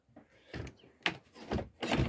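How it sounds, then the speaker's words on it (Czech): Door of a Fendt Diamant 550 VIP caravan having only its upper half opened, giving several separate clunks and latch clicks close by, with no talking. "Tady máte ještě takhle to možnost jenom otevřít jenom půlku těch dveří"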